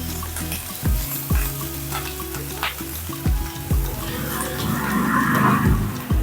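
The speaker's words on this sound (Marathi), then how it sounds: "आणि लगेचच त्याच्यामध्ये बारीक चिरलेली मिरची आणि कढीपत्ता टाकूया. परतून घेऊया चांगलं." Finely chopped chilies and curry leaves frying in hot oil in a pan, with a steady sizzle broken by several sharp stirring knocks and scrapes, growing into a louder crackle toward the end.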